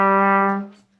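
One low trumpet note A sounds alone, held steadily for well under a second and then fading quickly into silence.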